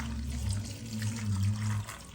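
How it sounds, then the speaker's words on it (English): Water poured from a tap into a cooking pot in a home kitchen, a steady running gush with a low resonant hum, continuous and close. "And now, of course, the water. Let's add the water."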